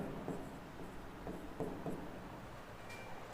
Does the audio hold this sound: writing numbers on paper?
yes